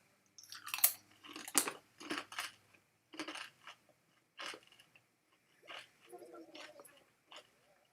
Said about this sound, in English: And I'm gonna eat some. So sorry if it's a little crunchy.